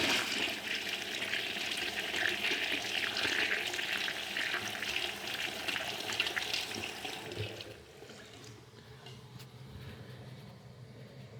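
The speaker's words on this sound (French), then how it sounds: "je vais attendre que ça se remplit et je vais vous refaire une deuxième chasse" A wall-hung toilet flushes a second time, a loud rushing gush of water for several seconds that cuts down to a quieter trickle and gurgle as the bowl settles.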